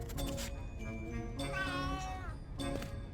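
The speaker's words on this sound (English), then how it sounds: "Look, it's a cat." Several drawn-out meows from a cat in the adventure game A Vampyre Story, three distinct cries with rising and falling pitch over a low background hum.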